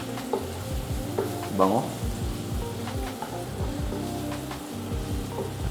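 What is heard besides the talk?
garlic sautéing in pan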